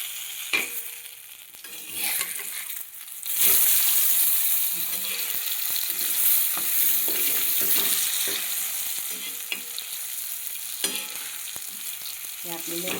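Tava vadi fries on a hot griddle and is flipped, giving a steady, loud sizzle with scraping and tapping from the turning.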